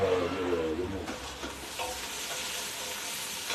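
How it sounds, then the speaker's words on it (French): Onions and garlic sizzle and fry in a pan as they are stirred, a steady close hiss that stays loud for the whole stretch with no voices over it. "tu fais bien revenir les oignons, l'ail"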